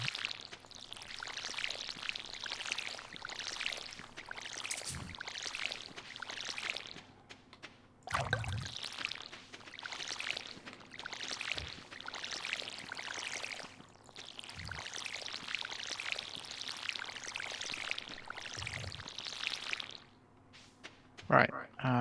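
Watering can pouring over crops in Stardew Valley, repeated splashy pour bursts one after another at a steady pace, with occasional soft thumps between, alongside voices talking.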